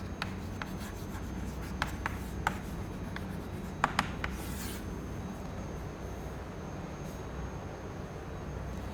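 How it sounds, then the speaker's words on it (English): Chalk or marker scratching and tapping across a lecture board while equations are written, faint irregular strokes and taps over a steady background hiss, no voices. "So let me write down the vector form of the equations."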